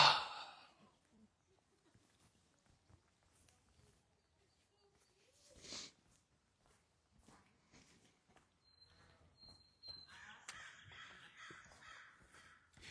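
Crows caw several times outdoors during a morning walk, fairly faint and spread across the clip between footsteps and ambient noise, with a brief louder burst near the middle and denser calls toward the end.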